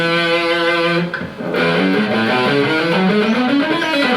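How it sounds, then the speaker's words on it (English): A single distorted electric guitar E note rings out and sustains, briefly dips, then is struck again and held, buzzing and loud. "I'm playing an E with distortion because I felt like playing like that today"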